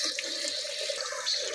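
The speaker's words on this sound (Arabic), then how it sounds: "شوف هلا حطيتها تحت المي لتبرد عشان تفتح هيدي" Tap water runs steadily over a pressure cooker set under it in a sink to cool, a continuous close broadband splashing hiss with no talk.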